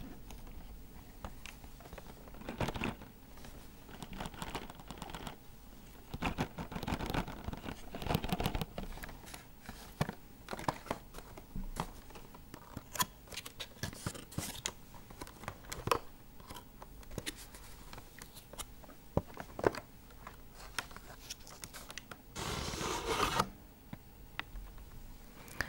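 A package being carefully opened during an ASMR unboxing: close, quiet crinkles, snips, taps and scratches in irregular bursts, with a louder rustling flurry near the end.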